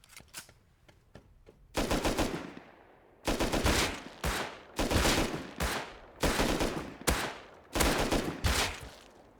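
Automatic gunfire from the survival video game Rust comes in loud, rapid bursts separated by short pauses, with a few quieter single shots at the start.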